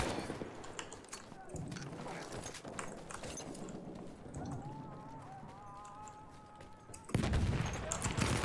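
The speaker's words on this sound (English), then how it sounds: "You can actually microburst the MP18 trench when you're hip firing" Battlefield 1 gameplay with an MP18 trench gun fired from the hip in short microbursts, dense crackling gunfire layered among other battle noise and a mechanical whine, ending in a louder burst.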